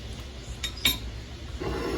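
A spoon stirs vegan minestrone soup in a pot, giving a couple of light metallic clinks against the rim over a low, steady background rustle.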